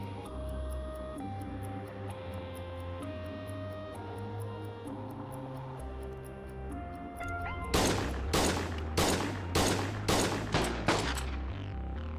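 Burst of video game gunfire kicks in after a stretch of tonal music, with about eight sharp, loud shots in uneven rhythm over a steady music bed.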